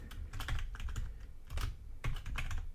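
Steady typing on a computer keyboard, with rapid irregular clusters of key clicks at close range, heard alone without talk.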